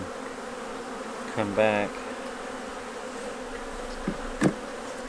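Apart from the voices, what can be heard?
honeybees buzzing around a beehive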